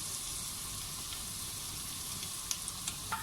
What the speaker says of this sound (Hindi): अब क्योंकि ऑयल गर्म है तो हम इसके अंदर ये लहसुन डालेंगे।